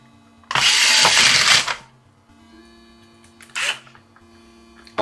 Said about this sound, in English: I like these drills. They're cheap.